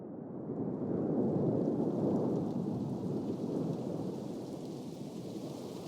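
A storm at sea, rain and thunder, rolls out as a broad continuous low rumble that swells early and then holds steady at a moderate level, with a dense wash of rain and no voices.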